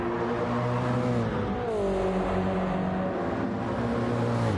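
Race cars roar around a track in Gran Turismo 7 during a GT3 championship race, loud engine tones rising and falling as gears shift, a constant dense drone with no talk.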